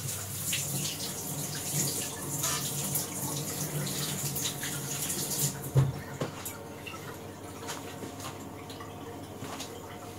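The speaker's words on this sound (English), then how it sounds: "So let's get this dirty knife all washed up." Running tap water splashes steadily into a sink while a dirty kitchen knife is rinsed under it. The flow is close and continuous, with a brief clunk partway through and drips and light clatter toward the end.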